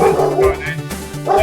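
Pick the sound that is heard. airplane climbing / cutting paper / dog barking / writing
dog barking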